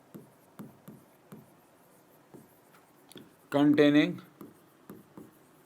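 Marker or chalk strokes on a board during a Class 11 physics lecture on Newton's laws of motion: a regular series of short, close taps and scratches, briefly interrupted by someone speaking.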